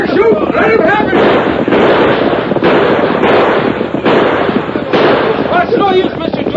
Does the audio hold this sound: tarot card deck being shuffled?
no